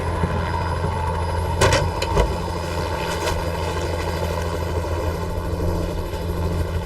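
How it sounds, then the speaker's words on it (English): A rescue helicopter drones steadily nearby, its rotor throbbing in a continuous low pulse with engine whine, a couple of brief clanks early on. "a rescue helicopter picks up Blake and rushes to the scene"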